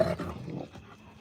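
A big dog lets out a low, rough growl close by, strongest at the start and fading into softer rumbling over about a second.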